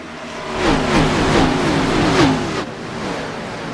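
Gen 4 race cars roaring around the Texas speedway in iRacing during an All-American Cup Series race, a loud engine drone with rising and falling pitch sweeps as cars pass, continuous with no talk.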